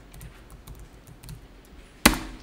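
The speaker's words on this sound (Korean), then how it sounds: "그리고 엔터를 치고요" Enter key struck once on a computer keyboard during accounting data entry, a single sharp, close click standing out after a stretch of quiet, faint room noise.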